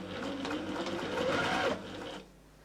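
Sewing machine stitching fabric pieces together with a quarter-inch seam, a close, steady motor whir lasting under two seconds before winding down to quiet room tone.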